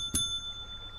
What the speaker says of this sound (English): It's a desk bell.